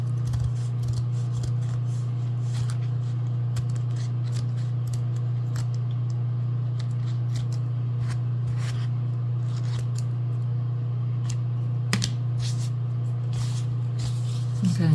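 Scissors snip through foam for a junk journal cover in a series of short, sharp cuts spread across the clip, over a steady low hum, with a louder snip near the end.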